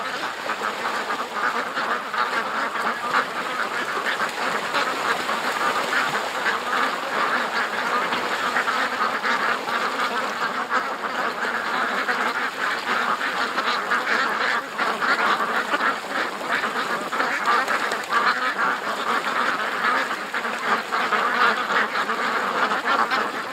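A large flock of ducks quacks and honks in panic, a dense and continuous chorus of overlapping calls that stays loud for more than twenty seconds.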